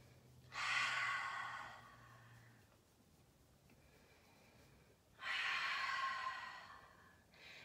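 Slow yoga breathing during a grounding practice: two long, audible exhales roughly four seconds apart, close and soft, with quiet pauses between and no talk.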